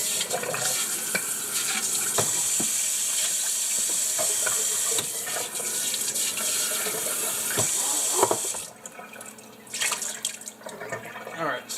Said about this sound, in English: Now we go back to the sink. And all we're doing really is just rinsing this out.